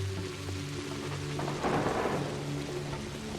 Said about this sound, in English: I think that effect just happened in the game. Where it lightnings and then you hear the thunder 3 or 4 seconds later.